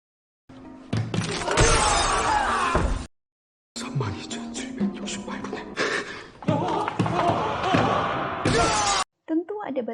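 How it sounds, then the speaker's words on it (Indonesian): Glass panels on a bridge in the Squid Game glass-stepping game, shattering and crashing in loud dense bursts, with a gap of silence between them, over dramatic scoring and voices. "di mana salah satu kaca akan pecah saat diinjak dan salah satunya tetap utuh"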